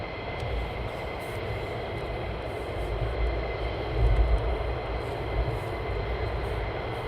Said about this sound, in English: that was absolute butter landing that one